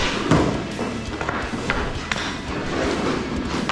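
A white hockey puck shot during an at-home puck drill, giving a few dull thuds and knocks over a steady, noisy background.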